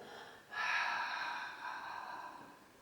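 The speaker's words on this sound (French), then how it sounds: "Respiration de l'océan." One long, audible ocean-style breath during a Pilates exercise, a soft airy exhale through a narrowed throat lasting about two seconds, close but quiet.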